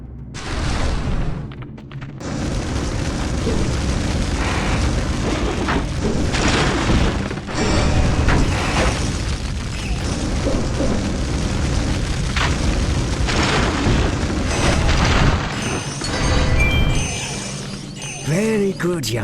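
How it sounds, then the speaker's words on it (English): Spyro the dragon breathing fire in The Legend of Spyro: A New Beginning on PS2: a loud, sustained roaring whoosh of flame with booming bursts and bright crackles, continuous for most of the stretch with a brief dip near the start. "This time, see if you can chase them down with your fire breath."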